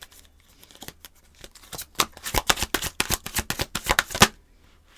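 Tarot cards riffled and shuffled by hand, a run of crisp, fast papery flutters building in loudness and then stopping, close up with no voices.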